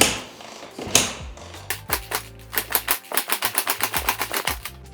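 Small engine in a 40hp Little Tikes Cozy Coupe build, sitting since 2023 on old gas, cranks repeatedly without catching: a fast, even train of mechanical chugs that picks up and steadies, loud and close with no talk.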